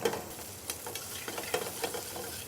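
Already-cooked vegetables sautéing in olive oil on a hot griddle, a soft continuous sizzle broken by light stirring scrapes and utensil taps, fairly quiet and close.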